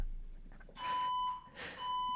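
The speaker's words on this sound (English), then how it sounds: "It's just a fire alarm test." A building fire alarm sounds during a test, two bursts of steady electronic tones about a second apart against a quiet room with no talking.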